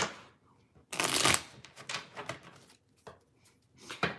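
Tarot cards are shuffled by hand in loud, crisp riffling bursts, one long riffle followed by shorter irregular flutters and taps of the deck, close to the listener with no talk.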